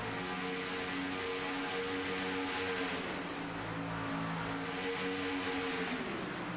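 Race cars in the Kubota 185 at Daytona run in a pack, a steady loud droning engine roar with pitch that sags and rises as the field circles, no talking.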